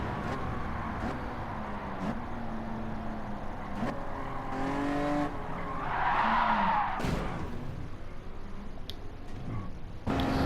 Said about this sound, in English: Let's get a chase cam view of this crash.